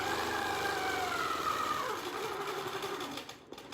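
Longarm quilting machine stitching with a Westalee crosshatch guide, a steady fast mechanical whir close by that holds even, then eases off near the end.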